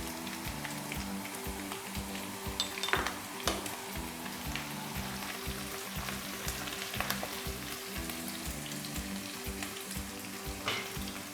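Half a teaspoon of white cumin seeds fries in hot oil for a ridge gourd (tori) sabzi, giving a steady close crackling sizzle with occasional sharper pops and stirring clatter, and no voices.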